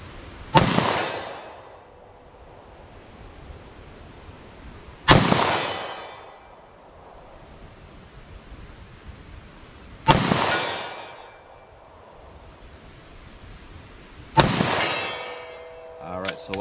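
A .327 Federal Magnum revolver fires four sharp, loud shots at a target, spaced about four to five seconds apart, each crack followed by a short echoing decay over low background noise.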